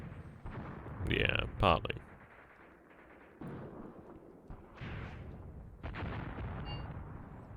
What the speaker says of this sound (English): It might even be our own artillery there. Potentially mortars.